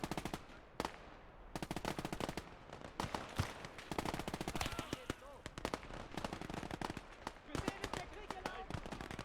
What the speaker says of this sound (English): I do grab the MG42 belt-fed version because it does have a bigger magazine